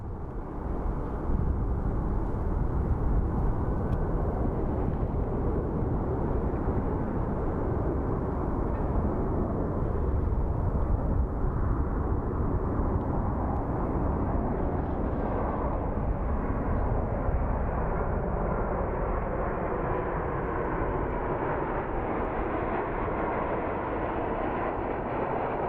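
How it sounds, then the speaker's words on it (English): A United airliner roars in to land at Phoenix Sky Harbor airport, its broad, rumbling engine noise loud and continuous, slowly shifting in pitch as it passes, with no voices heard. "we're gonna film the United landing to the best of my ability"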